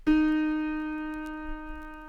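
A single plucked autoharp C sharp string in the middle octave rings out clearly at a mid pitch, bright and sustained, slowly fading with no other sound around it.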